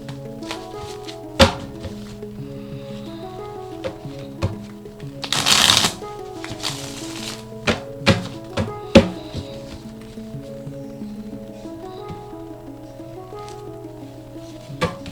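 Tarot cards are shuffled by hand for a reading, giving a run of soft riffling bursts and sharp taps as the deck is squared and knocked, with one longer, louder riffle near the middle.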